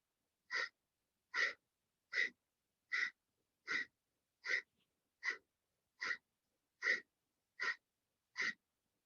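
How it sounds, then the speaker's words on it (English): Eleven sharp, evenly spaced exhalations forced through the nostrils during a flowing breath-led arm exercise, each short and close, with quiet between them. "Have an emphasis on your exhalation through your nostrils."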